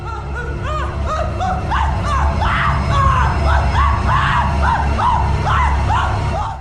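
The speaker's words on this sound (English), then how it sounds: "it will cover its face with its hand and begin screaming, crying, and babbling non-stop" The Shy Guy monster from a Lethal Company mod screams, cries and babbles nonstop in loud, wavering wails that rise and fall in rapid repeated bursts.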